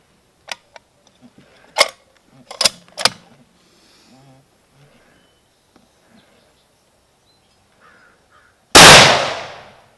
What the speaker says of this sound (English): I just wanted to take a couple shots and get my first impressions on it.